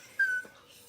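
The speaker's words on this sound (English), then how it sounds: "Sorry, my dog is whining, as always." A pet dog named Oreo whining indoors, a single short high-pitched whine lasting about a quarter second, fairly close and clear, followed by quiet breathing.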